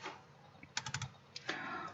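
Quick paired clicks from a computer mouse at a desk while working in an Excel spreadsheet, crisp and close, mixed with light keyboard-like tapping and no talk.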